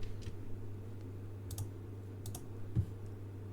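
Keys clatter on a computer keyboard in a few sparse, separate clicks and short bursts, close and fairly quiet over a steady low hum, with no talking.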